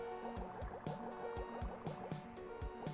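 Liquid fills and gurgles in the Flashpoint video game, a quick run of close, wet pouring and dripping plops repeating in a fast, uneven rhythm with no talking.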